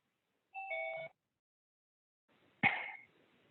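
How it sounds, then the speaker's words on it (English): Two electronic chimes sound during an online meeting, a short two-tone ding followed after a pause by a brighter tone, each clear against near silence. "So I'll stop the chiming so that doesn't interrupt us for the rest of the meeting."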